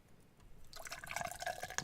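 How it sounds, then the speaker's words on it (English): A drink poured in the video game Enshrouded, a short trickling, splashing liquid stream that starts quietly and fills in over about a second, heard alone. "Just gonna pour this drink here."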